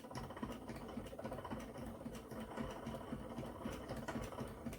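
A spinning wheel spins long fibre into yarn, a soft, steady mechanical whir with a quick rhythmic clatter, faint and continuous, with no voices.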